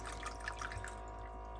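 Bottled water poured into a container for sprouting an avocado seed, a soft steady trickle with faint dripping throughout, quiet and close.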